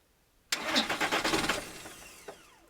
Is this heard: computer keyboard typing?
no